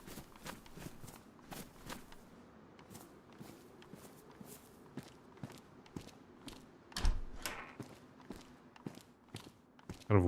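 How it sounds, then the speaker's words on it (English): Footsteps in DayZ on Chernarus thud steadily and fairly loudly in a walking rhythm, with occasional heavier scuffs and a sharp clunk toward the end. "Kind of aware now of how loud my footsteps are in this game."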